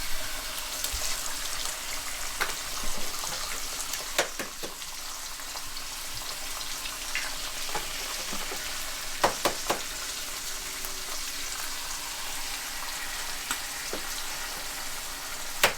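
Free-range eggs frying in butter in a pan give a steady, close sizzle with scattered sharp pops and crackles spread across the whole stretch, no voices.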